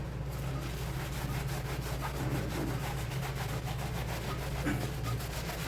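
Cloth rubbing a sports shoe with shampoo, a steady rhythmic scrubbing that rasps back and forth close up over a constant low hum.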